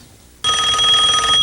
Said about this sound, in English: Phone rings.